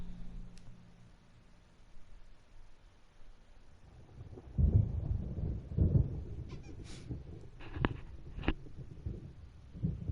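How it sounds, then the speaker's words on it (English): Thunder rolls through a storm in the video game Alan Wake, building into a loud low rumble with a few sharp crackling peaks, starting faint and swelling midway before lingering. "There's a storm coming. Oh, what a storm."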